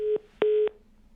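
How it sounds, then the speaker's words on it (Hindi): Two short steady beeps of a telephone line tone as a live phone-in call drops. The second tone is longer, and both are clear and alone with no talk. "ठीक है, कॉल ड्रॉप"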